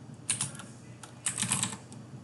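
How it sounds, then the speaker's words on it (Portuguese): Brief typing on a computer keyboard entering text into a prompt, two quick bursts of key clicks separated by a short pause, close and fairly quiet with no talking. "dentro do prompt podemos digitar qualquer coisa"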